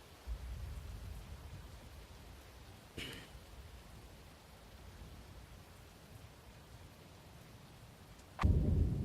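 Rain patters softly and steadily in the Twisted storm-chasing game, with a brief crack near the start and a sudden low thunder rumble swelling at the end.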